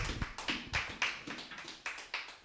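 A church congregation clapping in praise, a quick run of a dozen or so sharp hand claps from a small group, fairly faint and fading toward the end.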